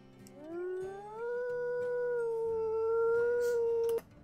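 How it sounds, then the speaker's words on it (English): Wolf howl from the video game WolfQuest, a single long rising tonal howl that holds steady for several seconds before stopping sharply, clear over a faint game background. "How many times do you want me to howl?"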